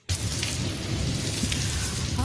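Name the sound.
rain and thunder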